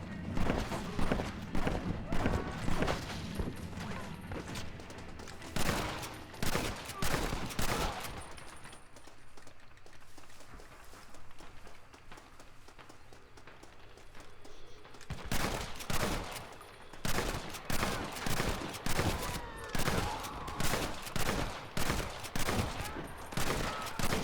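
Semi-automatic shotgun fire in Red Dead Redemption 2 rings out in rapid, loud volleys of repeated blasts, breaking for a quieter stretch before the shooting resumes in dense bursts.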